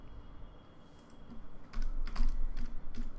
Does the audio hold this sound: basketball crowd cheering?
no